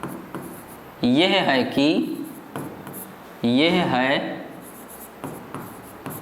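Writing on a board during a 12th-grade chemistry lesson on numericals: scratchy strokes that come and go beneath a teacher's explaining voice.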